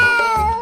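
A person mimics a cat with a short, loud, close meow in a nasal, drawn-out tone.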